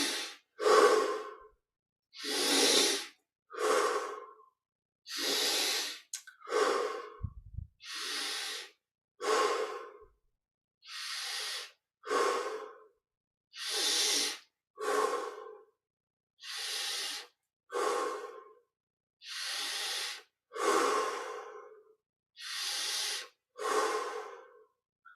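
Slow, deep breathing during a yoga exercise, in through the nose and out through the mouth, with about twenty close, loud breaths in a steady rhythm and brief silent gaps between them.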